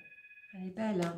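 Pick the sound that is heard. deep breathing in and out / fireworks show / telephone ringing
telephone ringing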